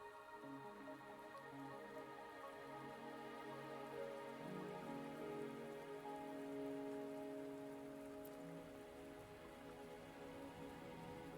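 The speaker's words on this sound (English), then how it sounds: "Are you trapped here by the rain?" Steady rain falls in the video game Wuthering Waves, a soft continuous patter of drops on surfaces with no break, calm and moderately distant.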